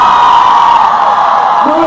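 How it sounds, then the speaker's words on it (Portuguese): A crowd of girls at a Jump Sumaré event screams together in a sustained, loud, high-pitched roar that fades slightly toward the end. "Agora eu quero ouvir só o grito das meninas."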